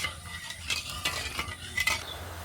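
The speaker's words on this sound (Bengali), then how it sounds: "এবারে চিনিটা নেড়ে চেড়ে গলিয়ে খুব সুন্দর একটা চিনি রস তৈরি করে নেব।" A spoon stirring sugar and water in a pot as the sugar melts into syrup for homemade sweets, with soft scraping strokes at an irregular pace over a faint bubbling hiss.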